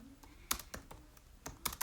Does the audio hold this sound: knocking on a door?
no